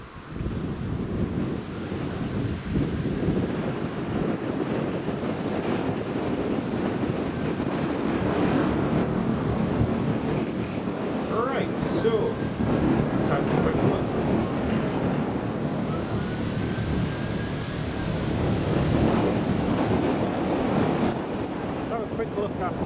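Steady, loud wind buffets an open microphone at Newcastle International Airport on a chilly day, a continuous broadband rush with gusts swelling and easing throughout and no talk over it.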